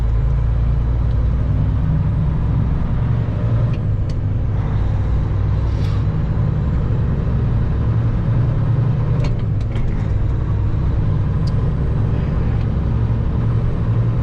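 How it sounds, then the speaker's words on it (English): A heavy truck engine labours steadily under load on the road to a port, a deep continuous rumble filling the whole stretch with faint clanks and hisses now and then. "The truck is pulling pretty good."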